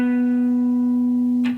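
A guitar sounds a single sustained open D note that rings steadily and close, ending with a brief pick or finger noise.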